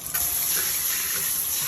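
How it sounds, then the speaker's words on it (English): Water gushes steadily from a large sink tap with a shower-style head, a close, constant rushing stream heard alone. "there is this large sink and this tap that comes off as a shower"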